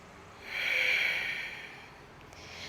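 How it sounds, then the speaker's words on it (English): A single deep breath drawn in during a yoga flow, a soft airy swell rising and fading over about two seconds, close and alone. "Take a breath."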